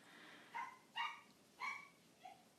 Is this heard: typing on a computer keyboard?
no